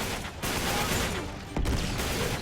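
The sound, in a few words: turret gunfire in video game Uncharted 3: Drake's Deception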